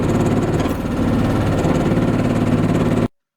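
A boat engine on the lake at Fairhaven runs loud and close with a steady rumbling drone, then cuts off abruptly into silence.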